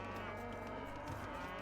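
Cattle moo in a low, sustained bellow in Age of Empires II, with game ambience continuing underneath and no speech.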